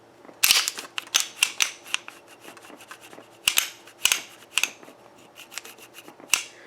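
Staccato P 2020 pistol slide racked repeatedly by hand, a run of crisp metallic clacks and sliding scrapes in irregular bursts, close and fairly loud with no talking.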